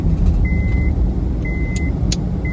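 Car driving along at a steady pace, a continuous low engine and road rumble filling the clip, with a few short, high electronic beeps recurring over it.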